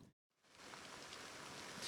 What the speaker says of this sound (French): la pluie qui a commencé cet après-midi